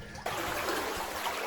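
Ocean water sloshing back and forth inside a sea cave in Curacao, a steady trickling, splashing wash that begins abruptly and continues evenly at close range.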